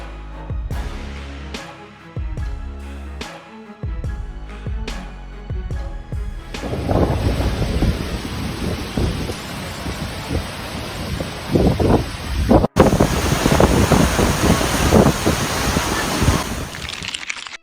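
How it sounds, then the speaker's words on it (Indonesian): A sandstorm in Astrakhan, Russia, brings a loud, steady roar of wind that buffets the microphone. The roar follows several seconds of tonal music and continues unbroken to the end. "Badai pasir di Rusia."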